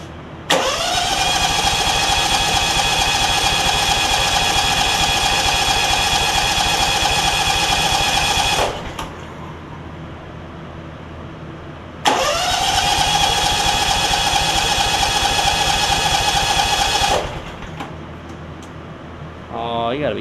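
A John Deere X300 lawn tractor engine, suffering no-spark and running issues, runs loudly and steadily for about eight seconds, cuts off, then restarts and runs again for about five seconds before stopping.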